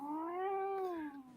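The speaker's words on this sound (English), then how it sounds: "The cat just spoke." A cat gives one long, drawn-out meow that rises and then falls in pitch, loud and close, with nothing else heard alongside it.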